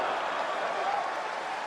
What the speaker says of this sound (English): Crowd comes alive when Wladimir Klitschko lands a power punch.